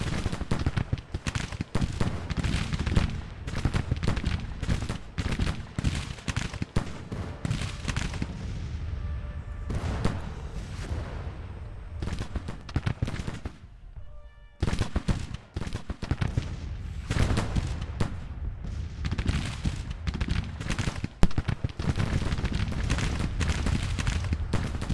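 Rifle volleys and artillery fire in a Civil War strategy video game, dense crackling musketry and booming cannon shots rolling almost continuously, with a brief lull in the middle before the firing resumes loudly.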